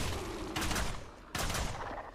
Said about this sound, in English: The sound effect of the crossbows is kind of dumb